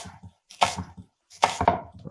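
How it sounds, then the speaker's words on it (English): An onion is chopped on a cutting board in two bursts of quick knife strokes, crisp close thumps and crunches separated by brief silences, with no talking. "I'm gonna cut up my veggies here. Just a little onion and stuff like that."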